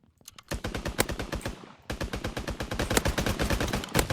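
Rapid automatic gunfire in the Mini Royale battle royale video game, loud close bursts of evenly spaced shots, a short pause, then another long sustained burst.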